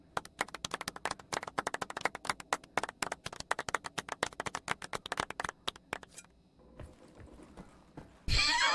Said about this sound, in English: Gave myself a clap.